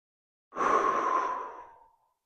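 A single long, deep exhale, close and clear, rising quickly and then slowly fading out, taken while holding an upper-body and neck stretch with the shoulder blades squeezed together.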